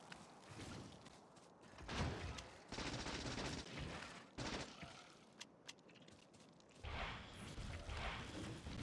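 Rockets fire in Factorio: Space Age as dense bursts of gunfire-like blasts and crashes, continuous and layered, with occasional sharp impacts and no talking.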